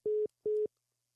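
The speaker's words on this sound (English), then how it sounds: "he hung the phone up" Two steady beeps of a telephone line tone after a caller hangs up, evenly spaced and clean, with silence after the second.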